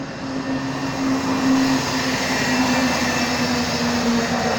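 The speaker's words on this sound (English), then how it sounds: "we're approaching the wedge tail" A Wedgetail aircraft drones past at an air show in Edinburgh, South Australia, a steady broad engine roar with a held low tone, moderately loud and continuous, no speech over it.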